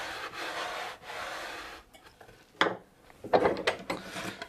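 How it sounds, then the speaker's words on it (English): A wooden block is rubbed and pressed along freshly applied edge banding, making dry scraping strokes, then a few sharper knocks and scuffs as the block is shifted along the edge. "give it an extra push with a block of wood, just to make sure that it's well adhered"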